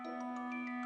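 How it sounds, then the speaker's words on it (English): A door opening with a bright, sustained electronic chime, a steady bell-like tone held for about a second before a brief brighter rise at the end. "the door opened with a lovely chime"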